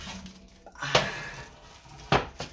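Metal baking pan for cake mix cookies handled and set down on a counter: two sharp clanks with softer rattles between and after, close by, no talking.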